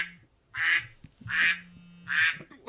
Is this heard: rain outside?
no